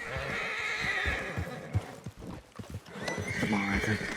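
A horse in the Western video game Red Dead Redemption 2 whinnies and snorts near the listener while hooves clip-clop, with game voices talking over much of it.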